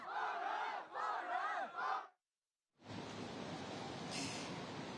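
A protest crowd in China being pushed back by police roars and shouts in a dense mass of voices, cut by a brief silence, then returning as a broad, noisy wash of crowd sound.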